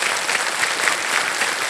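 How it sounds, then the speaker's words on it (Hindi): Studio audience on the Hindi quiz show KBC applauding, a loud, dense, continuous burst of clapping from a large crowd. "जितने लोग यहाँ आज ताली बजा रहे हैं"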